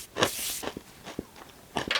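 Crunchy snack chewed close to the mic, with loud bursts of crackling bites at the start and end and softer crunches between.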